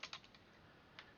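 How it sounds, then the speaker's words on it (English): Quick keystrokes tap on a computer keyboard, a short burst of clicks followed by a single later press, faint and close with no speech over it. "Let me actually type it in"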